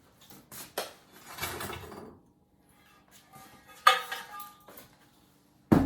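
Fired stoneware pot lid, speckled and grog-rich, lifted out while unloading an electric cone 6 kiln, giving a few sharp ceramic clinks and knocks with soft rustling between them, close by.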